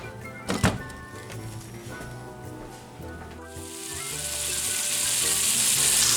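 Ground beef and onion fry in a pan for shepherd's pie: a couple of thuds as meat drops in, then a hiss that builds into a loud, steady close sizzle; no talking.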